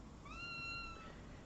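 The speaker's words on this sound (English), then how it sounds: "There's my cat." A house cat gives a single drawn-out meow indoors, fairly faint, over a low steady background hum.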